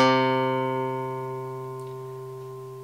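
A single low C guitar note, third fret of the fifth string, plucked once and left ringing, slowly fading out on its own.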